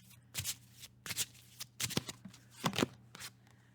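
Tarot cards being shuffled, a run of quick papery riffles and slaps in uneven bursts, close and fairly soft with a steady low hum beneath and no talking.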